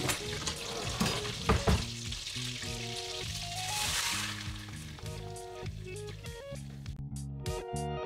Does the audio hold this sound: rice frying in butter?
yes